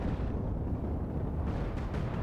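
Miniguns with huge magazines and flat cannons fire nonstop in the space-combat game Cosmoteer, a dense, continuous rumble of booming shots and crackling bursts that holds steady throughout without a break.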